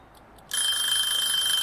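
Cooking timer alarm from the video game Cooking Sim: after a couple of soft blips, a loud, continuous high-pitched electronic ringing starts and holds steadily.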